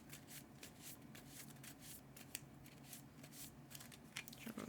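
A deck of cards for the Legendary Marvel deckbuilding game is shuffled by hand in steady, rapid riffling bursts, close and fairly quiet, with no talking.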